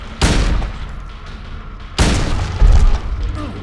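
Two heavy, booming rifle shots ring out from the Silent Hill 2 video game, roughly two seconds apart, each with a long decaying tail and some rumbling game noise in between.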